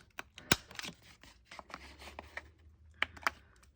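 Corner rounder punch nipping the corners of a paper journaling card, several sharp close clicks and crunches in quick succession with light handling rustle between them.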